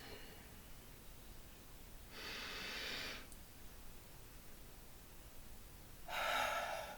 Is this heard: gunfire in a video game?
no